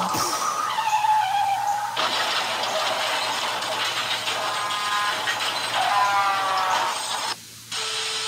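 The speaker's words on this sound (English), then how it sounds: "Mommy Pig's about to be hit by a car." In a Peppa Pig cartoon, a car skids toward Mummy Pig. A loud, sustained, screeching skid runs for several seconds with wavering tones over a rumbling bed, then cuts off abruptly near the end.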